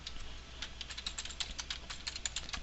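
Right arrow keys on a computer keyboard pressed in a quick run of light, close plastic clicks, irregular and rapid, with no talking.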